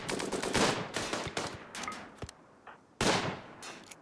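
Robots and colonists exchange gunfire in the video game RimWorld: rapid bursts of automatic shots crackle in clusters, fade into a short lull, then break out again sharply near the end.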